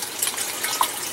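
Water trickling and dripping from plant roots pulled out of an aquaponic garden, a steady splashy patter with a few brighter drips, close by.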